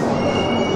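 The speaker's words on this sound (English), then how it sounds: "The train is about to stop, and finally the train has stopped" Passenger train slowing to a halt beside a platform, with a steady rumble of rolling coaches and a faint high metallic wheel squeal drawn out through the whole short stretch.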